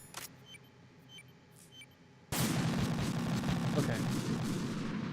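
Gunfire in Metal Gear Solid 2 bursts in abruptly partway through and keeps going as a loud, dense roar of shots after a quieter stretch with faint ticks and clicks.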